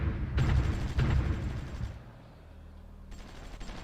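Artillery fire in the war strategy game Supreme Ruler Ultimate, two heavy booming shots in quick succession, then a quieter rumbling lull before another burst begins.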